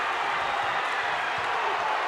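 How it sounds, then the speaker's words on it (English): A basketball championship crowd between the Ellet Orangemen and Buchtel Griffins roars and cheers in a dense, continuous wash of loud noise filling the gym. "Crowd going crazy"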